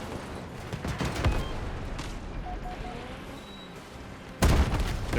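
Cannon artillery shot in a ship combat video game, a booming blast with another heavy report later over steady rumbling background and faint game tones.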